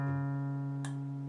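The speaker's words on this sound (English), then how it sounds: "I'm going to continue to press down firmly and slide up to the 5th fret of the A." A single guitar note on the A string slides up to the fifth fret and rings alone, steady and clear, with a brief bright scrape partway through before it stops.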